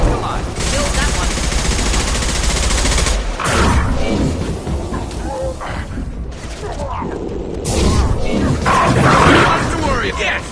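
Loud, dense gunfire from a Mass Effect 2 battle, with rapid overlapping bursts and booming impacts that rise and fall across the whole stretch, while voices speak underneath the shooting.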